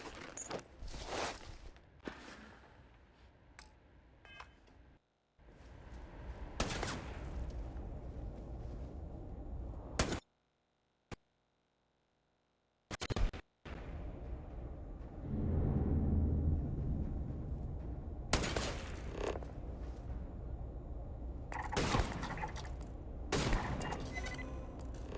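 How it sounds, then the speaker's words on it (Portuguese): Gunfire from enemies aimed at the player in Starfield: loud bursts of shots and volleys in clusters, split by short silences and some quieter stretches, with no talking. "Eles continuam tentando me atirar"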